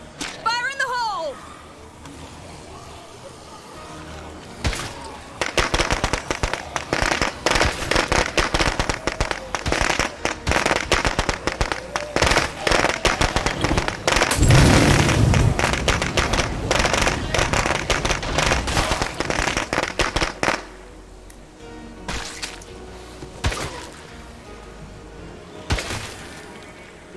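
A thrown explosive goes off in the State of Decay 2 video game, a loud burst of rapid crackling blasts that lasts for many seconds and then trails into scattered pops, while voices talk over the din.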